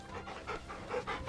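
A dog pants in Final Fantasy XVI while being petted, a run of quick soft rhythmic breaths, close and fairly quiet, with no talking.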